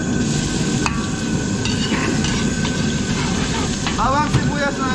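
Garlic and onion fry for a catering batch of pancit canton, giving a steady, dense sizzle with occasional clinks of a utensil against the pan.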